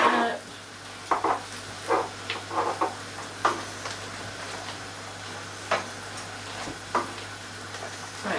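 Lasagne ingredients, including red meat, are stirred in a pan, giving scattered metallic scrapes and taps of a utensil against the pan at an uneven rhythm over a quiet background hum.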